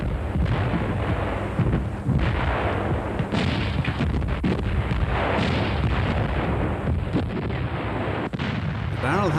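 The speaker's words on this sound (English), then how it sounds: "as can be seen in this film of these guns being used in North Africa in 1941" German IG-18 infantry guns fire in North Africa in 1941, a dense rumbling barrage of heavy booms and blasts on old, noisy archive film sound, loud and continuous with overlapping reports.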